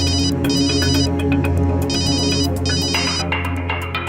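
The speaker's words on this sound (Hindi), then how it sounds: "कादिर का फोन था" A phone ringtone plays continuously, a bright repeating electronic melody in bursts with brief pauses, loud and close, no voices.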